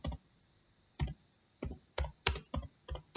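Keys on a computer keyboard clack in short bursts, a lone tap, a pause, then a quicker run of strokes, close and crisp with silence between.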